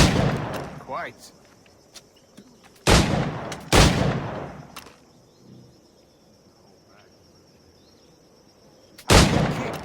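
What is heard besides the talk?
gunshots in video game Assassin's Creed 4 Black Flag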